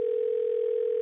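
A steady telephone line tone, one continuous unbroken note holding at even loudness, heard while dialing a store clerk, with no voices over it.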